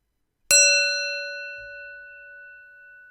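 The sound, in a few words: meditation bell ringing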